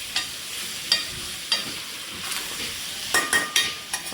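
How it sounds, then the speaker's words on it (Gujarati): Mango pieces are stirred in a pot with a spoon, giving soft scraping sweeps and a light sizzle, with several sharp clinks of the spoon against the pot toward the end. "કેરીના કટકા નાખીને મસ્ત મજાનું હલાવી દઈશું"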